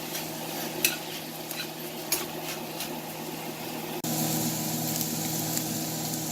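Bulgogi with yellow onions fries in a pan, a steady sizzle with occasional clinks and stirring scrapes, growing louder and brighter partway through.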